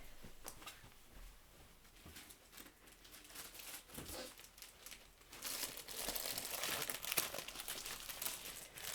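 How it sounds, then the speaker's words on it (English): Sheets of slightly textured drawing paper are handled close up, giving soft crinkles, rustles and light taps that grow denser and louder toward the end. "so I'll grab my paper that I use"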